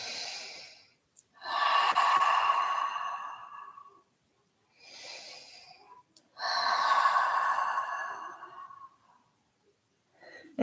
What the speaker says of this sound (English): Keep trying to take big breaths in and out.